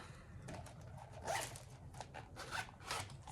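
Zipper closing on a knitting project bag that has a ring closure, several quick rasping pulls in short bursts, close and fairly quiet with no talking.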